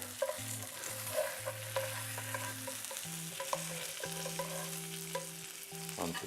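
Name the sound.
salmon frying in a pan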